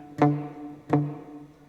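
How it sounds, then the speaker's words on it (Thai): Two plucks of an open-ringing acoustic guitar note on the fifth string, fifth fret, played unmuted; each bright attack sustains briefly before fading, close and alone. "อ่าเสียงนี้ถ้าเราไม่บล็อกสายมันจะเป็นอย่างนี้นะ"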